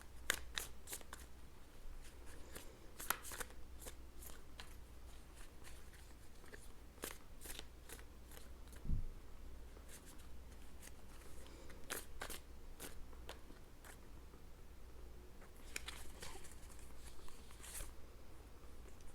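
Tarot cards are shuffled and drawn in a quiet room, with a run of soft crisp card flicks and slides in irregular clusters, faint and close, with no talk.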